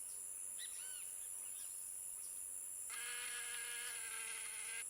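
A fly buzzes in a continuous, moderately loud drone that starts up partway through and runs to the end, preceded by a few soft chirping calls over a quiet outdoor backdrop.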